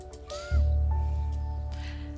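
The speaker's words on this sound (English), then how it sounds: "Everyone's just keeping an eye on that bird." A crow-like caw from a bird in the video game Niche rises suddenly and holds as a loud, low sustained call over steady game music tones.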